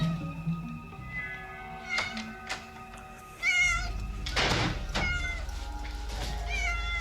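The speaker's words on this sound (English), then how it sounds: "How many cats has she bloody got?" Several cats meow repeatedly, clear close cries coming one after another over a low background hum, with no talk.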